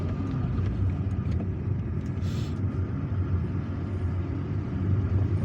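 A car drives along Didouche Mourad Street in Algiers, a one-way city street, its steady low engine and road rumble continuous and close throughout with no voices.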